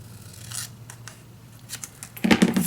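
Scissors cut paper for a scrapbook mini album, close up: a few short snips and crisp slicing strokes, ending in a louder rustling cut, with no talking.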